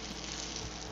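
Korean gimmari, seaweed-wrapped rice paper rolls, frying in hot oil: a steady, dense sizzle and crackle, close and constant with no pauses.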